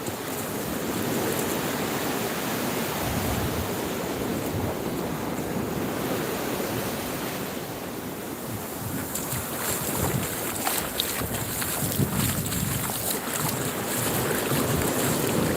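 Steady roar of surf and wind at a beach, with broadband wave wash and gusty wind rumbling across the microphone throughout, swelling louder in the second half.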